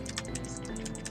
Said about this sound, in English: you're gonna hear this weird sound of both my clicking and my space key being pressed